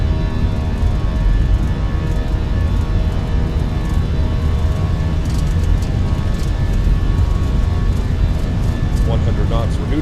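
Airliner jet engines spooling to takeoff thrust in a flight simulator on a runway, a loud steady broadband roar and whine filling the whole stretch, with a voice speaking over it.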